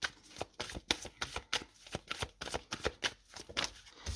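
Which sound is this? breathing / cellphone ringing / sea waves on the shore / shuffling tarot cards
shuffling tarot cards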